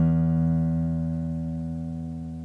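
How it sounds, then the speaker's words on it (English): Low E string (string 6) of a guitar plucked once, a clear ringing note with rich overtones that sustains and slowly fades, alone with no talking. "If you would, pluck string 6."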